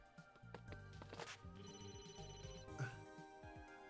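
A phone rings in the game Emio - The Smiling Man as a faint, repeating electronic tone, mixed with footstep-like thumps and other game sounds.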